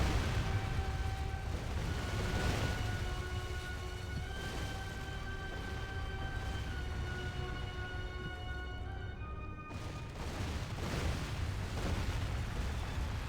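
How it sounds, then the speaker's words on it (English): Artillery bombardment in the Medieval 2 Total War video game, heavy rumbling explosions rolling one after another with deep low booms, sustained over a tonal musical drone, one blast cutting out briefly near the end before resuming. "Oh, this bombardment."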